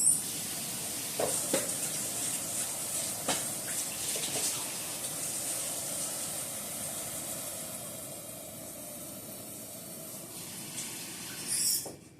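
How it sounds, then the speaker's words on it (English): Tap water pours steadily into a container for about twelve seconds, a continuous bright rushing hiss with a few clinks as the vessel shifts, then it tapers off. "so I'll get a container of water"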